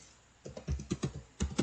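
Keys tapped on a computer keyboard while data is entered into a web form, a quiet lead-in followed by about ten distinct close keystrokes in uneven bursts, with no talking.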